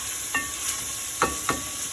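Softened carrots stirred in a pan over a steady sizzle, with three short scraping strokes of the utensil standing out close up and no talking.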